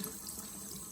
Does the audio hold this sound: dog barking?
no